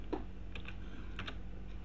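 A few isolated key presses on a computer keyboard, typing the letter V to switch a NodeMCU-controlled smart cabinet's drawer lights, with soft clicks spaced apart over a steady low electrical hum.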